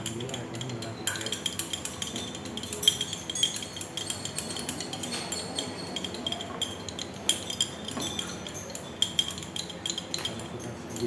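Small metal and glass clinks from stirring a hot acetanilide solution in laboratory glassware over a burner, a steady run of light taps and scrapes that continues throughout.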